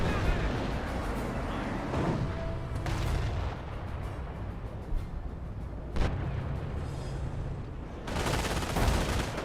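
Rocket artillery barrage in Company of Heroes, a dense roar of explosions and impacts with a few sharp blasts standing out, loud throughout, with a commentator's voice over parts.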